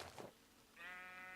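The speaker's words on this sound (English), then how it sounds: "Come here, sheep." A Minecraft sheep in the Better Than Wolves mod gives a single drawn-out, buzzy game bleat after a brief soft rustle, clear and close with no talk.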